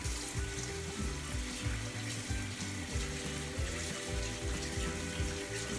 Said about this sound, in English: go ahead and wash the remaining particles from your hands